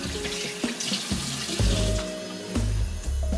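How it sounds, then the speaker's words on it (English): Lukewarm water from a tap splashes into a sink while a face is washed, close and continuous with intermittent hand splashes and no talking. "Then I just wash this off with lukewarm water,"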